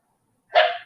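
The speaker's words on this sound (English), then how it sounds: "Dogs are barking again." Dogs bark in a short burst in the background, a single loud cluster of barking that rises suddenly after a quiet stretch and fades within a fraction of a second.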